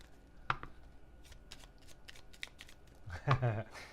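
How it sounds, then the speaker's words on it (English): A deck of playing cards shuffled during a tabletop game play-through, quick riffling snaps and flicks close to the microphone, ending in a louder burst, with a person speaking nearby. "And then I'm going to shuffle and throw another aging card in there."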